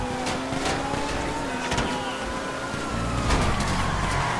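A police car siren wails in GTA Online, its sweeping tones running steadily over a loud, continuous roar of racing car engines and road noise, with a brief burst of louder crashing or impact noise near the end.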